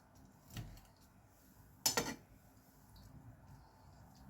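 A knife slices through a cooled, fluffy homemade eggless cake, giving a soft scrape and then a sharp clink against the plate or pan, faint and close with no talking.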